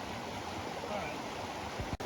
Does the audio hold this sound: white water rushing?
yes